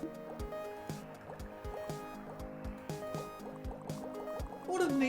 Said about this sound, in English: It even changes the force of the hose, depending on how far away the cursor is.